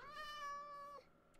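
A cat meows once in the Minecraft video game, a single drawn-out tonal cry lasting about a second, clear and close, followed by a brief quiet gap and a faint click.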